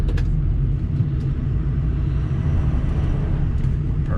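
A 2006 Ford F350 King Ranch pickup truck drives in four-wheel high, giving off a steady, deep engine and drivetrain rumble heard from inside the cab with no talking.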